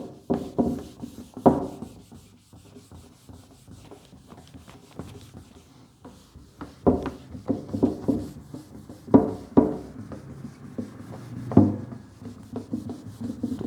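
Duster or cloth rubbing writing off a classroom board, damp from moisture so it drags, giving repeated scraping strokes in short bursts with pauses between, fairly close and moderately loud, no talking.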